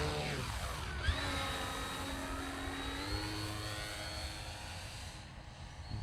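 An E-flite Turbo Timber Evolution RC plane taxies and takes off, its electric motor giving a steady, loud whine that climbs in pitch as it powers up and holds throughout, with no talking.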